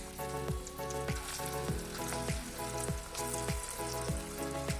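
Onion pakoras frying in hot oil give a steady, close, loud sizzle with a crackling hiss throughout, plus faint rhythmic clinks of a utensil and no talking.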